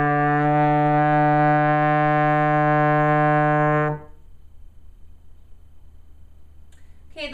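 Trombone sustaining a single E-flat in third position, a steady, full, close tone with rich harmonics lasting about four seconds before cutting off into quiet room noise.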